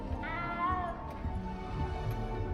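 A small cat meows several times in a Hogwarts Legacy game scene, close and fairly clear over a steady bed of game music and ambience.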